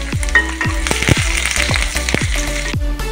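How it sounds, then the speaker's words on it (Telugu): Garlic, dried red chilies, curry leaves and onions sizzle and fry in hot oil, with repeated stirring scrapes at a steady rhythm, close and loud with no talk. "లాస్ట్లో ఉల్లిపాయలు వేసుకొని లైట్గా ఫ్రై చేసుకోండి"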